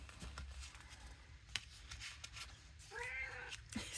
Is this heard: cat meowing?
yes